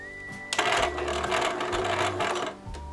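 A sewing machine stitching under foot-pedal control, a loud steady mechanical whir with a fast rhythmic clatter that starts abruptly, runs about two seconds, then winds down, with a faint tone beforehand.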